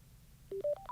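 Sena 60S EVO headset power-on tone: a quick rising run of four short electronic beeps, close and fairly quiet over a faint background hiss, with no one speaking.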